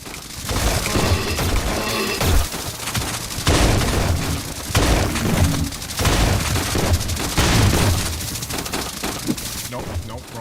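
Loud, nearly continuous gunfire in MOHRTA, a Doom-based shooter game, with dense rapid bursts and heavy blasts across the whole stretch and no talking.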